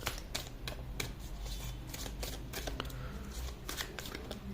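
Cards are drawn from a deck, a quick run of soft papery flicks and riffles, close and fairly quiet.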